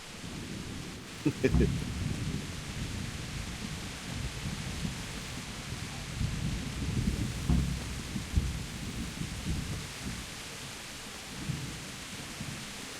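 A video-game thunderstorm rumbles with low, rolling thunder and steady rain hiss, with a couple of sharper lightning cracks, while voices talk faintly over it.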